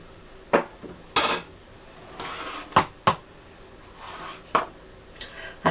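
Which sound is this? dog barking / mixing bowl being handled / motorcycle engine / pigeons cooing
mixing bowl being handled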